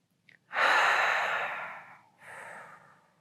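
A slow, deep breath drawn in and let out during a gentle shoulder stretch in a seniors' stretching class: a soft intake, then a long, airy exhale that fades, followed by a shorter second breath out, close and without talk.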